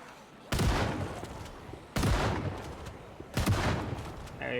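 Three loud gun blasts from a shotgun in a video game, spaced about 1.5 seconds apart, each a sharp broadband crack with a decaying tail.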